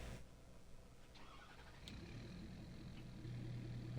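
Truck engine in Farming Simulator 22 cranking over and settling into a steady low rumble, with a brief higher whir midway and the idle growing a little louder toward the end, heard alone.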